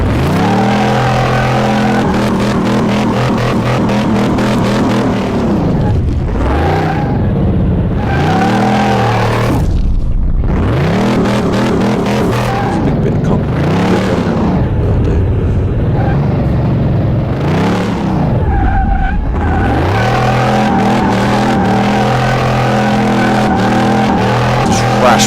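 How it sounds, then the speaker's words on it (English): A Dodge Charger in Car Mechanic Simulator 2018 doing a burnout on brand new tyres, the game engine revving loud and continuous in repeated swelling surges, with tyre noise beneath. "Let's do a burnout."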